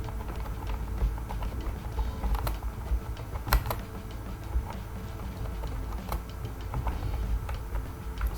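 Rapid, steady keystrokes on a computer keyboard while text is entered into a certificate template, a close, continuous clatter of small clicks with occasional louder key hits and no voices.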